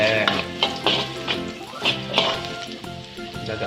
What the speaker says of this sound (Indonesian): Dioseng-oseng.